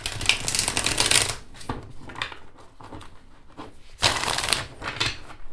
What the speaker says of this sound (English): Now let's see how this deck shuffles.